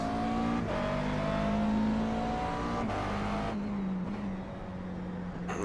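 A McLaren MP4-12C GT3 engine drones steadily at Zandvoort in iRacing, holding a loud, sustained note with shifting pitch through gear changes and corners, brief dips as the throttle lifts.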